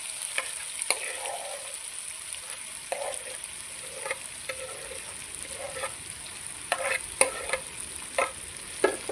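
Ivy gourd (kundri) is stirred into tomato, onion and spices frying in a pan, giving a steady close sizzle broken by repeated scraping strokes of a spoon.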